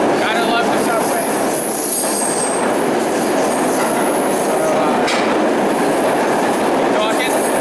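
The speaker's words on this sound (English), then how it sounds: "Gotta love the subway." Close, loud subway train running on rails, a continuous rumble carrying repeated high-pitched wheel squeals and a light clickety-clack rhythm.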